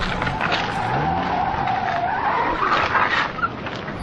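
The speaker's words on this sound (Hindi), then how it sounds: "नरम रेत में टायर धंस गया।" A car's tires spin and skid as they sink into soft sand, making a steady, loud grinding squeal with engine strain across the whole stretch and a harsh, gritty texture.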